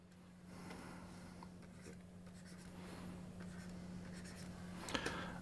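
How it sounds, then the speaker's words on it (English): A pen scratching lines across paper while working a non-calculator maths exam question, a soft close scratchy rasp that builds and continues with brief strokes and taps, over a faint steady mains hum and no speech. "let's just draw a line between them, and let's do both our north lines"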